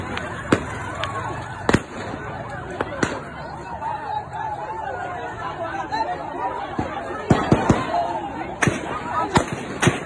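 Sharp gunshots from police and army shooting, scattered single cracks and short clusters over a steady background of crowd chatter and shouting, loud and fairly close.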